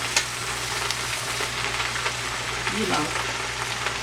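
Collard greens with smoked turkey fry on a stovetop with a steady sizzle, a few stirring scrapes, and a person speaking briefly over the cooking.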